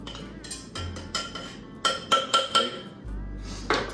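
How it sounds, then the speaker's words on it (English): A muddler crushing mint leaves and syrup in a glass for a cocktail, a run of close, quiet rhythmic taps and knocks with faint glassy clinks, in a series of soft strikes. "Just gonna muddle that, and the idea with this is that it just brings out some of the flavor from the mint leaves."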